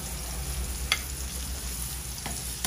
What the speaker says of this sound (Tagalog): Igisa ang bawang, sibuyas.